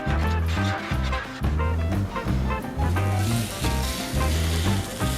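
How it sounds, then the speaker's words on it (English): Tuna steaks sear in oil on a Blackstone flat top griddle over medium-high heat, a loud steady sizzle running throughout beneath a prominent rhythmic musical backing with no voices. "You hear that nice sizzle?"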